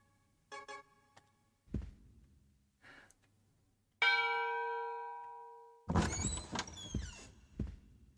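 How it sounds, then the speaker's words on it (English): The bell of dawn rings in the video game Echo Night 2 as a single loud, clear chime that sustains and slowly fades. Softer chimes and mechanical tones come before it, and a burst of busier game sound follows. "Goddess, ring the bell of dawn"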